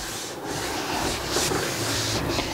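A clean hand rubbing and smoothing fondant icing over a birthday cake, a continuous close, dry rubbing and scuffing with slight swells in strength, no voices.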